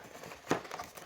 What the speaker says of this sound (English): Just fold up here,